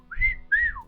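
A person whistles two short rising-and-falling notes, the second gliding downward, close and clear with a faint hum of low background noise beneath.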